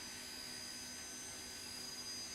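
A steady, loud turbojet whine and roar from a Lockheed JetStar with four small turbojets taxiing in Microsoft Flight Simulator, continuous and even throughout, with no voices.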